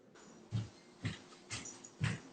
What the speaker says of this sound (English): Little poodle dog or whatever.